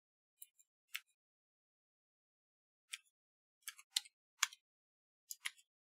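Typing on a keyboard: faint, sparse key clicks alone in near silence, first a few scattered single taps, then a quicker cluster of several keystrokes.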